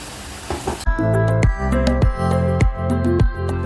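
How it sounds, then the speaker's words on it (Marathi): Hot oil in a kadai sizzles loudly while making red chutney for vada pav, steady frying hiss punctuated by repeated sharp crackles and pops. "कढई ठेवलेली आहे आणि कढईमध्ये तेल गरम करायला ठेवलेलं आहे."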